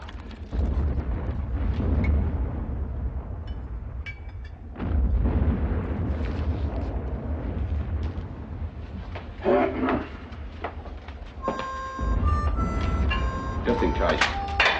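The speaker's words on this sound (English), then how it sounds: "Hey, those aren't our guns. Ah, they're miles away." Distant artillery guns firing miles away, heavy low rumbling booms rolling in long sustained bursts, with people talking over the bombardment and brief clanks near the end.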